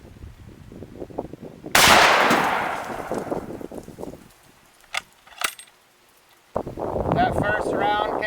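A single loud, sharp rifle shot from a 7.92x57 Speer 150 grain hand load fires at an outdoor range and decays into a long rumbling tail, followed by wind noise and a few small clicks.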